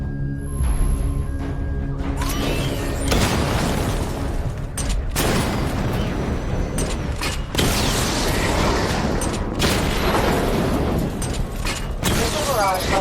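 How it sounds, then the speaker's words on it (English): Batmobile cannon and missile fire in Batman: Arkham Knight during a weapon diagnostic stage, loud repeated booms and bursts with mechanical clanks, layered under game voice narration. "Destroy targets to charge up weapon energy and activate missile barrage."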